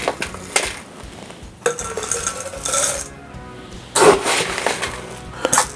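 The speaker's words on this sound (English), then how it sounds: "I'm gonna add some fresh ice to that" Fresh ice cubes dropped and rattled into a fancy tropical cocktail glass for a low-carb Blue Hawaiian, several clinking, clattering bursts close by with brief pauses between them.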